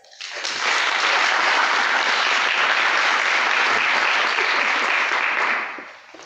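An audience at a talk breaks into warm applause welcoming a speaker, steady clapping that swells quickly, holds for about five seconds, then fades out.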